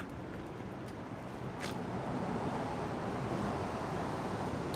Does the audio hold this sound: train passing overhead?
yes